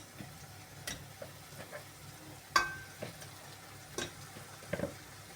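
Pork ribs with paprika fry quietly in a pan, a faint low sizzle broken by scattered clicks and taps of stirring.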